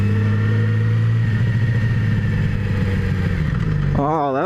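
A 2017 Yamaha R6 sport motorcycle revs and accelerates on a spirited ride, its loud engine roar rising steadily and close throughout, ending with wind buffeting.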